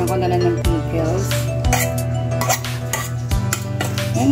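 Macaroni salad being stirred in a bowl: a spoon scrapes and clinks against the bowl several times, close and fairly loud, over a steady low hum.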